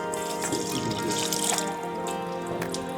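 Running water pours steadily from an outdoor foot-washing tap, a continuous splashing stream with faint dripping, close and alone without talk.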